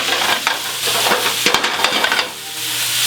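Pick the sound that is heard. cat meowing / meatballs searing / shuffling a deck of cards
meatballs searing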